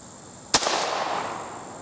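One sharp, loud gunshot firing Remington Golden Bullet ammunition at a cardboard target, a crisp crack followed by a rolling echo that fades over about a second.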